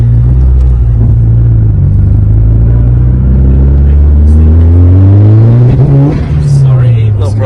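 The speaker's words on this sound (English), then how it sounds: "This car gains speed like crazy." A Mitsubishi Lancer Evolution accelerates hard, its engine note rising loudly through the revs with a deep rumble and a gear change near the end, heard close from inside the car.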